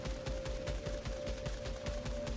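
Rapid bursts of automatic gunfire from a video game weapon, evenly spaced shots repeating steadily, with a constant tone sustained underneath.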